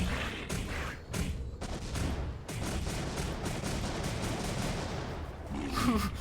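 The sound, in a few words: missile pods firing in video game M.A.S.S Builder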